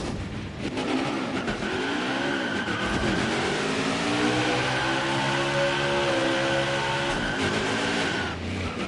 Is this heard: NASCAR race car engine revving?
yes